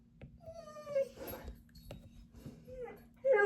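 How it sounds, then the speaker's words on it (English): A pet dog whimpers and whines in a room, with thin, high, wavering cries rising and falling over a few seconds, close and fairly soft, against a low steady hum. "This is my dog, everybody."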